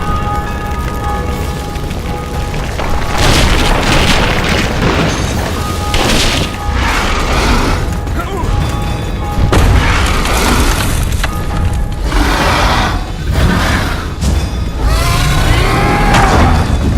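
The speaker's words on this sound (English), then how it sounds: "The bridge is burning!" A burning bridge collapsing in the fantasy game The Witcher 2, with loud, heavy booms and crashing impacts rolling one after another over a constant roaring bed, sustained and dense throughout.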